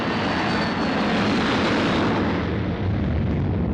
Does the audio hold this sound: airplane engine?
yes